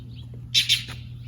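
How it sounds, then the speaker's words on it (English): A bird in a garden gives two sharp, harsh agitated squawks in quick succession, fairly close and loud over a low steady background hum. "Ooh, that bird's mad at me."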